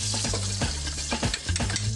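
Foie gras fries in a pan with a dense, continuous sizzle and crackle, close and fairly loud, with small stirring or shifting noises throughout and no talking.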